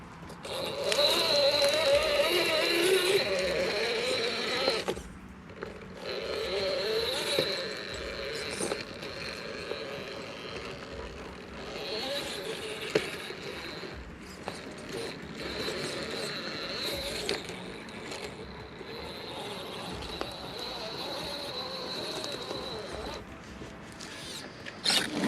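A custom C2 comp RC crawler rig grinds slowly over rocks, a steady whine of the small motor and gears with ticking, scraping tire and chassis contact throughout, close and continuous with no talk.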